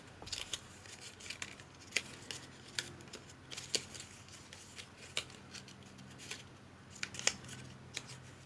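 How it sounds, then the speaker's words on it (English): Scissors making small relief cuts in paper packaging, a series of quick, sharp, close snips at irregular intervals over a quiet room background with no talking. "I'm just cutting some relief cuts"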